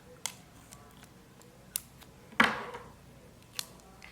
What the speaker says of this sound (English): I'm going to cut my tape in half as such